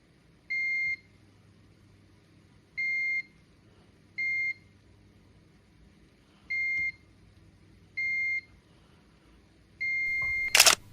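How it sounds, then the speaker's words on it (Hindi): Six short, evenly pitched electronic beeps from a multimeter on continuity mode, checking a capacitor on a dead mobile phone board; the tones come at irregular gaps, loud and close, with a brief clatter at the very end. "दोस्तों इस कैपेसिटर पे मुझे दोनों तरफ बीप मिल रहा है।"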